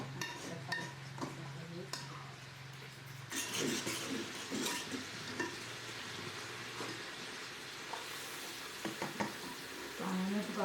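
Fonio cooking in a pot with juice added, stirred with scraping, clattering strokes over a steady low simmer, loud and close, with brief speech between the stirring sounds.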